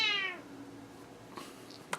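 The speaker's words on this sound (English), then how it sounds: "I don't want to say meow, but Spud does." Spud the cat lets out a single clear, drawn-out meow right at the start, fading after a moment, followed by quiet room noise and a couple of small knocks.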